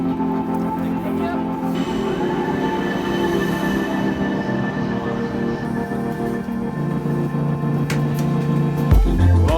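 A train pulls into London Waterloo station, with a loud steady rumble of wheels and carriages, long sustained wheel squeals and brake tones over roughly ten seconds, then a sharp clunk as it slows near the end.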